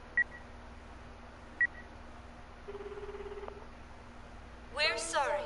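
A phone call being dialed in the video game Akiba's Beat: two short electronic beeps, a brief low buzzing tone, then a burst of chirpy ringing near the end, all fairly faint over a quiet hum.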